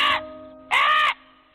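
A crow caws twice, close and loud, with two harsh, separate calls and a short quiet gap between them.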